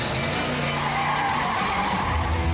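A race car skids with loud, continuous tire squeal over a roaring engine, sustained and close throughout the short burst.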